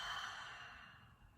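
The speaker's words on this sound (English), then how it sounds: "Exhale out your mouth." A single long exhale pushed out through the mouth during a mindful breathing exercise, soft and airy, close to the mic and slowly fading as the breath runs out.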